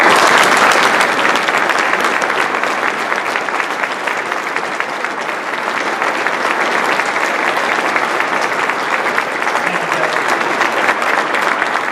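An indoor audience at a public announcement event gives sustained, dense applause for Mayor Tom Henry, loud and even from start to finish, with a faint murmur of crowd underneath.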